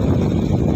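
Strong autumn wind blows among tall trees in Turkey as a loud, steady, low rushing roar buffeting the microphone, with no other clear sounds.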